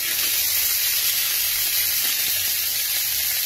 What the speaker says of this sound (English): As we baste, we're just going to take our spoon.